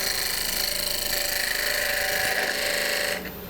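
A wood-cutting power tool shapes a small scrap wood paperweight, giving a steady high whine with grinding texture that runs loud and unbroken, then drops in pitch and level near the end.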